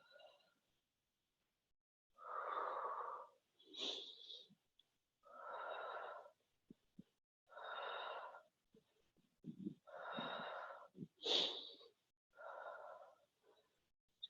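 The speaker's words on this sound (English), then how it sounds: "Deep breathing." Slow, deep breaths during an exercise workout, a rhythmic series of strong inhales and exhales spaced a couple of seconds apart, close and breathy, with some faint noises in the pauses.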